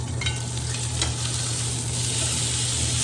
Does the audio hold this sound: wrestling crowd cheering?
no